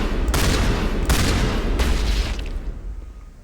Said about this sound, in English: Oh, that guy just fucking exploded.